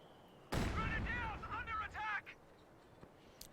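A mortar fires in the World War II strategy game Company of Heroes 2, one sudden heavy boom that cuts in loudly and then rolls under a stretch of game voices and talk.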